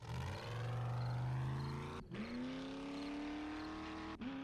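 A car engine in the game 7 Days To Die (Alpha 18) revs steadily and climbs in pitch, with two sharp breaks where it shifts gear, loud and close with no talking over it.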